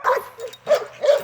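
A young puppy in a training session gives three short, close yelping barks mixed with whimpers, each separated by a brief pause.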